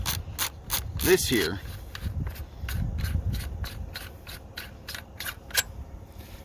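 The muzzle piece of an IWI Tavor TS12 shotgun is unscrewed, giving a close run of short clicking, ratcheting ticks in an even rhythm, with a brief metallic scrape and a few spoken words early on.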